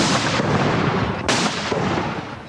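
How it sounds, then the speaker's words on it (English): Artillery guns of 215 Regiment's Artillery Corps firing a 21-gun salute at an Australian Bicentennial celebration in 1988: two loud, booming shots about a second apart, each rolling into a long echoing rumble. "215 Regiment's Artillery Corps was signalling an end to the day's pomp and pageantry with a 21-gun salute"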